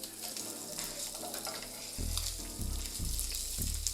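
Bacon sizzles steadily in a pot, a constant bright crackling hiss, with low pulsing thumps from stirring or handling underneath and no talking.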